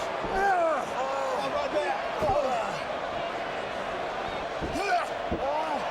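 A wrestler body-slams another wrestler in a WrestleMania 29 ring, giving a few heavy thuds on the canvas under constant crowd noise and a commentator talking.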